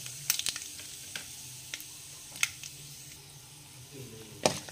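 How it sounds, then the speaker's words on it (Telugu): Tempering spices and peanuts fry quietly in oil, a faint low sizzle broken by scattered sharp pops and crackles. "ఇవి కాస్త ఫ్రై అయిన తర్వాత ఇందులోకి వేరుశనగ గుండ్లు వేసుకుందాము."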